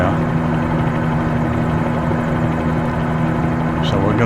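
A helicopter flies from Antiquers toward Key West in Microsoft Flight Simulator 2020, its steady rotor and engine drone loud and constant throughout, with a low humming tone running underneath.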